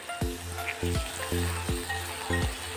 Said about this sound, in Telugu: ఇవన్నీ మనకి బాగా మిక్స్ చేసేసుకొని మంచిగా ఫ్రై అవ్వాలి